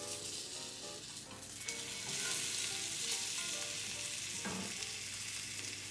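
Salmon sears in a pan of salmon oil and a little grapeseed oil, with a steady loud sizzle and crackle throughout and occasional scraping as the oil is pushed to the edge.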